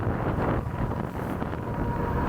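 Steady wind rumble buffets the microphone while riding an ENGWE X24 dual-battery ebike on throttle along a flat road, a constant low roar with no voices.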